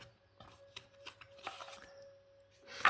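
Tarot cards being shuffled by hand, with soft papery riffling and brief flicks in an irregular rhythm, close and quiet over a faint steady hum, ending in a louder rustle.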